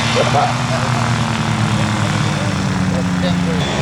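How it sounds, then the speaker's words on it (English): A sport plane's engine and propeller drone steadily on a calm day, loud and constant throughout with a low, even hum and no break. "Sport plane."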